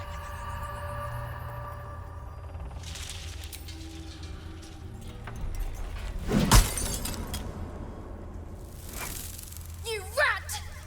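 Glass shattering in the video game Baldur's Gate 3, a sharp breaking crash over a low rumbling game score, followed by a smaller clink a few seconds later; a character's voice is heard around it.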